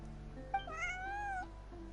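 A kitty in Genshin Impact lets out a single soft, rising-and-falling meow of nearly a second, heard alone over a quiet, steady hum.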